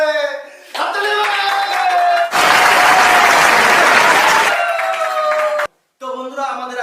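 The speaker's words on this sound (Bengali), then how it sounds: "হাততালি হবে।" An audience at a pull-the-string prize challenge game claps and cheers in a dense, loud burst. The applause is framed by brief tonal sounds, then a short silence, and then it picks up again.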